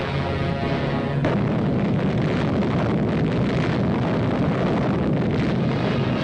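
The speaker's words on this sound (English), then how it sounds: "The gun fires an atomic shell." A 1953 newsreel of an atomic cannon firing an atomic shell: a sustained, loud, rumbling roar of blast noise that fills the whole stretch after a sudden shift in tone.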